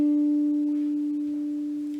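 One sustained guitar note, played with the pinky at the 7th fret of the G string, rings pure and alone with a gentle, gradual decay.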